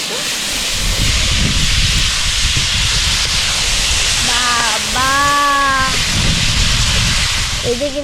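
Vegetables hit a hot pan at a family campsite, setting off a loud, steady sizzle and hiss that carries on throughout while voices talk over it.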